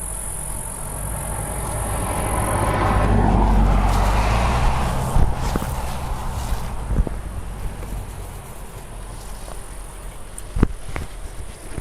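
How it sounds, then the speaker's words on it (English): A car passes on a road near a campsite, swelling and fading away, then outdoor ambience with insects buzzing and scattered small clicks and taps nearby. "There is a campsite not far from here, so we are going to have some traffic occasionally"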